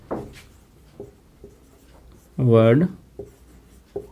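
Pen or marker strokes during a computer class on MS Office Word, with faint scratchy taps under a man's speech and a brief loud tonal sound in the middle.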